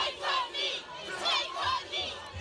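A crowd of protesters at a street demonstration, with voices rising and falling in repeated chanting waves at moderate distance, no single speaker standing out.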